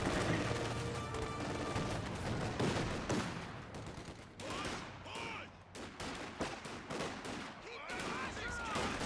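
Rocket Squad gunfire in Company of Heroes 2 rattles in dense overlapping volleys with explosions, while a commentator talks over the battle throughout.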